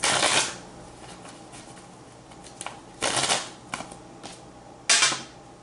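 Tarot cards are shuffled in short riffling bursts, several distinct crisp flutters separated by brief pauses, close up and fairly quiet, with no voices.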